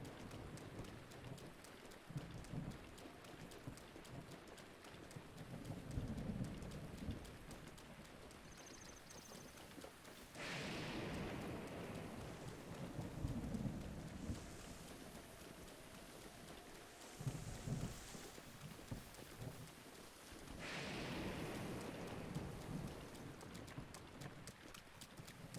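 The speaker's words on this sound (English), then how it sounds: "Good thing the thunderstorm doesn't last that long." A thunderstorm in the Breath of the Wild video game, with steady faint rain and several low rumbles of thunder spread across the span, while horse hooves clip-clop underneath.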